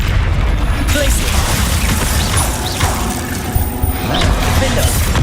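A Glacius ice spell cast in Hogwarts Legacy, a dense burst of magical whooshing and mechanical crackling layered with booming impacts over a loud, busy combat soundscape.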